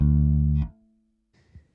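A bass guitar note rings low and strong for about half a second, then cuts off, followed by a couple of faint, soft fret or string noises after a pause.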